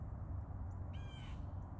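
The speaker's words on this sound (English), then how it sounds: "every time I start talking, this bird flies over and yells at me" A crow-like bird screams once overhead, a short harsh caw rising out of a quiet outdoor background hum, fairly faint and alone without talk.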